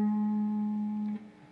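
Single guitar note picked on the D string at the 7th fret, ringing steadily with vibrato for about a second before fading out, played alone with no other instruments or voices.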